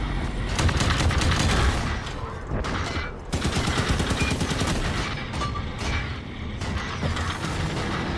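Rockets from a Halo 5: Guardians launcher fire in a quick sequence of loud, repeated blasts with a short break partway through, then keep firing amid clattering game mechanisms.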